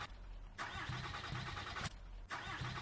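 A Kubota K30 in need of engine work cranks in two long, loud, grinding bursts with a brief gap between them, never catching.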